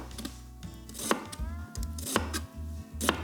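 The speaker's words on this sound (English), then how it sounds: "every time I come back and hit the knife, I'll slice a new piece of onion" A knife slicing an onion on a cutting board, with three crisp, evenly spaced chops standing out above faint, rhythmic low tapping from the work.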